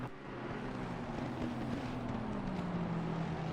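A Lamborghini race car at Watkins Glen climbs through an uphill right-hand corner, its engine a steady droning roar with slowly shifting pitch, heard at a distance under wind noise.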